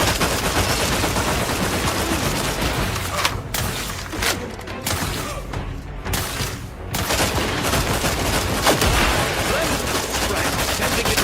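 Sustained gunfire in the video game The Outer Worlds 2, dense rapid shots and thuds in a continuous loud barrage with brief lulls, heavy and close throughout.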